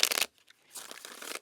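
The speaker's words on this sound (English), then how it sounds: "we're just going to shuffle up the deck" A tarot deck, the Victorian Romantic Tarot, is shuffled by hand in two quick bursts of papery riffling and sliding, close up, with a brief pause between.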